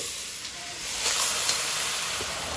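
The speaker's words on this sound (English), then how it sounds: "Now here I've taken a broad pan and I'm heating it, and now directly without adding the oil, I'm directly going to add in the meat in this." Marinated meat hits a hot, dry broad pan with no oil, giving a loud, steady broadband sizzle and hiss that swells slightly and holds throughout, with no talking.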